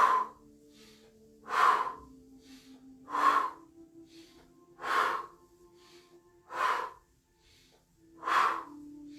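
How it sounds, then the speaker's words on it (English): Slow, rhythmic breaths, drawn in through the nose and let out through the mouth, come in six evenly spaced airy puffs about every one and a half seconds, close and clear, with quiet pauses between. "breathing in through the nose and breathing out through the mouth"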